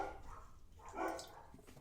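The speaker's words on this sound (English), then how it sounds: "My dogs are out of fucking control tonight. I don't know if someone's trying to break in my house or what's going on, but they're going crazy." A couple of dogs bark at a distance, faint and muffled, with a short burst of yapping in the middle of a quiet indoor room.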